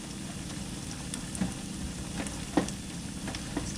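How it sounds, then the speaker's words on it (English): Chicken in a thickening sauce bubbles and sizzles in a pan, a steady soft frying crackle with occasional stirring clinks and pops, close and alone without talk. "I'm just going to let that cook for just a minute and get it nice and thick gravy for us to go over our rice"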